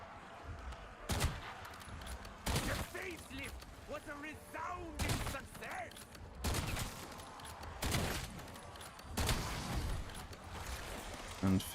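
Repeated gunfire bursts from a sniper rifle in Black Ops 7 Zombies, several loud sharp shots spaced a second or two apart with game effects and faint voice-like sounds between them.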